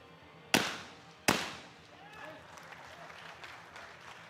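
Two sharp shotgun blasts about 0.7 seconds apart ring out loud and close at a men's junior skeet shooting final, each decaying into open-air echo, followed by faint murmuring from the crowd.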